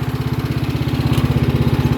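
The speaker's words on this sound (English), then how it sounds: "I'm down here at my local intersection mowing this little island." A small lawn mower engine runs steadily after its carburetor has been cleaned, a loud, close, even putter at an intersection island with no voices.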